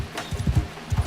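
Galloping horse hooves in the medieval combat game Mount and Blade Bannerlord, a quick rhythmic clip-clop of thudding strikes, moderately close with no talk over it.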